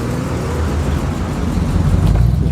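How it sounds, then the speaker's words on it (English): A Buick V8 classic car rumbles past at a Gawsworth Hall classic car show, a loud, close, deep engine note that swells slightly near the end, with no talk. "The big waffly V8."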